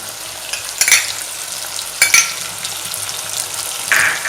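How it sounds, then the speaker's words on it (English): Chopped tomatoes go into a hot oiled pan for Punjabi-style dal tadka, raising a steady, loud sizzle with three sharper bursts of stirring and spitting scattered through. "Now I will be adding the chopped tomatoes."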